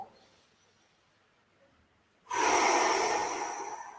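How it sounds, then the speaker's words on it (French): A single deep, close inhalation through the nose during a yoga pose, loud and breathy, starting abruptly after quiet and sustained for nearly two seconds. "J'inspire par le ventre."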